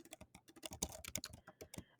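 Rapid typing on a computer keyboard, a quick irregular run of crisp key clicks, close and fairly quiet, with no voices.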